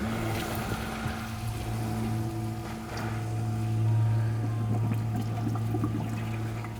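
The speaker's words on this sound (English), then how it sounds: "I've let it run for about 30 seconds or so, and the pump is not running dry anymore" A pump circulates descaling solution through a tankless water heater with a constant low motor hum and a watery churning rush, steady and close throughout.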